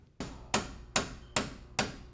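Five sharp hammer strikes ring out at a steady, roughly half-second rhythm in a Metro Tech electrician class, each blow loud and close with a quick decaying ring and no talk over them.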